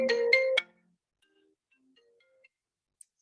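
A phone ringtone chimes loudly in a short burst of three quick rings, cutting off sharply during a yoga and meditation session, followed by near silence with faint scattered sounds.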